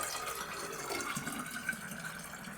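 Syrup pouring through a handy funnel into a roughly 500 ml bottle while baking for Halloween, a steady soft trickling and gurgling stream that runs continuously at low volume.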